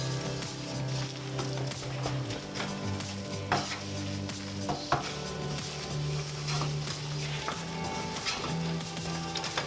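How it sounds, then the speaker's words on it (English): Flour and butter cook into a roux in a pan as a spoon stirs steadily, giving a continuous sizzle with scattered scrapes and light taps against the pan. "the flour is going to absorb all of the butter. And you need to make sure all of that flour is cooked, making your paste."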